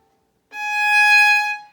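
A single sustained G sharp is bowed on a violin's E string, a clear bright tone starting abruptly and holding steady for about a second before easing off, alone in a quiet room.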